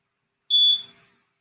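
A workout interval timer gives one short, sharp, high electronic beep that fades quickly in an otherwise silent room.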